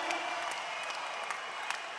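A basketball crowd at a men's grand final between Townsville Heat and Mackay Meteors applauds and cheers continuously in a big arena, with scattered claps and whistles and no break in the noise.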